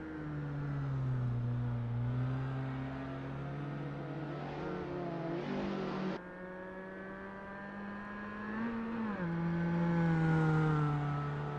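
Racing car engines in Assetto Corsa at Bannochbrae Reverse, with a Peugeot 205 GTi, VW Mk2 Golf GTi and Caterham 1700 on track, a steady close rumble whose pitch rises and falls through gear changes.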